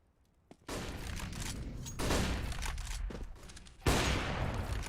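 Rifle fire from full AK-47s in a Counter-Strike match, with rapid bursts of gunshots in repeated volleys, a sharp shot cutting in near the end and no talk over it.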